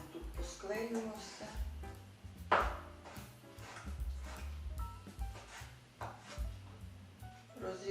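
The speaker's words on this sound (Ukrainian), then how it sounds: "Далі нарізаю чорну чорносливу." A knife taps against a cutting board in irregular chops through prunes, fairly quiet and close, with occasional soft knocks between cuts.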